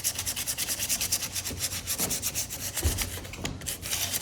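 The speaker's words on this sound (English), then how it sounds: "I'm just gonna take some 220 grit sandpaper and just smooth out some of the spots here" Hand sanding a plaster giraffe figure with 220 grit sandpaper, smoothing a built-up horn joint: close, rhythmic back-and-forth scratchy rubbing strokes in a steady series.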